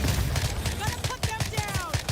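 Rapid gunfire in the video game The Division Resurgence, a dense rattle of shots in a quick regular rhythm with whistling ricochet-like tones over the top.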